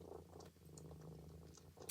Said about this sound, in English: He's like purring like a madman